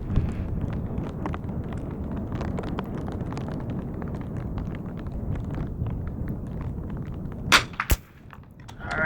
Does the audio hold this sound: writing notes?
no